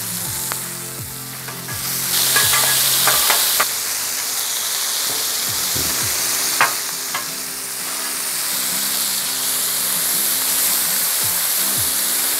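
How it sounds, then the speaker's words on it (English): Sausages sizzle steadily on a Blackstone griddle after being flipped, a loud, continuous frying hiss with scattered scrapes and clicks from a spatula, with no voices. "Let's get these sausages flipped. Get them cooking on the other side here."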